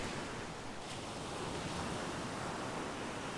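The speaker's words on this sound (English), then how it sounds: "I'm glad that you guys are loving the ocean sounds" Ocean waves rolling onto a beach, a continuous loud hiss of surf with steady broadband wash and some wind buffeting the microphone, no voices.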